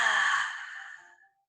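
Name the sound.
people exhaling during a breathing exercise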